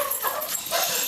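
Several dogs yip, whimper and bark in a burst of excited household commotion, close and fairly loud over a broad hiss-like background.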